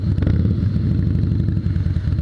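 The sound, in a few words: Harley-Davidson 2016 Softail Slim S motorcycle with 110 engine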